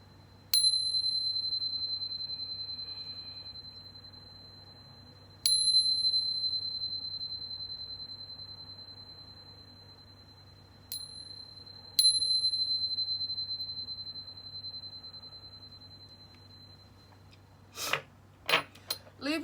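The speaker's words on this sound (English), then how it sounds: "But first, let's chime." Bright metallic chime struck four times before a tarot reading, each ring sustaining and slowly decaying, with a few softer jangling taps at the end over quiet room hum.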